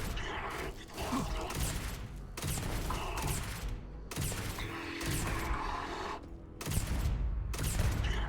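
Rapid, repeated bursts of shotgun-like gunfire during a firefight in the video game Starfield, loud volleys separated by short gaps, with faint mechanical clanks between shots.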